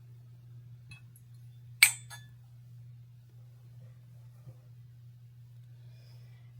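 Glass Christmas ornaments, including a glass tree, give one bright clink as they are handled, set over a steady low hum with a couple of faint ticks afterward.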